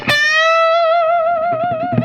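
Electric guitar phrase with a whole-step bend on the B string at the 15th fret, in the style of a classic rock solo opening. One bright picked note with distortion and effects rings out and sustains with gentle vibrato, played alone and up close.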